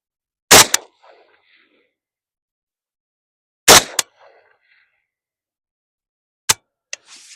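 Old Russian 7.62x39 tracer rounds fired from a rifle: two loud, sharp shots about three seconds apart, each with a brief echoing tail, then a third shot and a couple of lighter clicks near the end.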